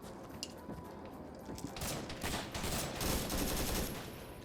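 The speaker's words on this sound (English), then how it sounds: "we can hear the shooting in the distance of the lost platoon at this point" Distant gunfire crackles in the Vietnam-era Arma game battle at Long Tan, with a steady wash of scattered shots that swells in the middle and holds to the end, and no talk over it.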